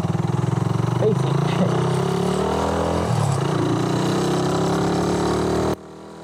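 A carbureted Suzuki Raider 150 motorcycle engine runs steadily and loud while the rider practices clutch control on an uphill slope, with a droning tone that rises and dips before cutting off abruptly near the end.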